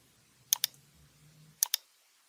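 Two pairs of crisp, close computer mouse clicks, spaced about a second apart, confirming OK dialog windows in RFEM 6 structural engineering software against a quiet background.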